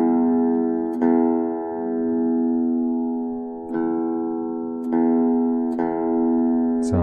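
An acoustic guitar's open E string is plucked four times, each note ringing and sustaining strongly while the tuning peg is tightened, with no talk.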